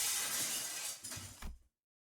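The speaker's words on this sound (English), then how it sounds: "The chandelier crashed to the floor in full force, making a tremendous noise." A chandelier crashes to the floor, and its glass breaks into a loud shattering burst followed by a brief clatter of falling shards before abrupt silence.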